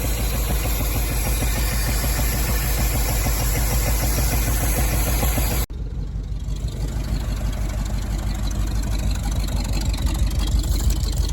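A 1975 Ford F250 with a 390 V8, cold-started after 30 years, idles loudly and steadily with an even, rumbling pulse that continues without pause.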